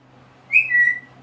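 A pet parrot gives a single clear, smooth whistle of about half a second, loud and close over a quiet room hum.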